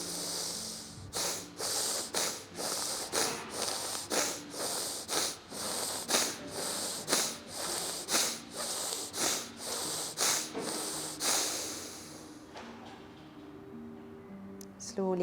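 Bhastrika pranayama bellows breathing: a fast, even train of about twenty forceful nasal breaths, loud and close, each a sharp hissing rush, stopping abruptly and giving way to quieter breathing at the end.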